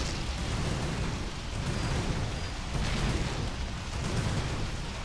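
Continuous rumbling explosions and blasts from a base under attack in StarCraft 2, a dense, steady barrage with overlapping booms and no clear gaps, loud throughout.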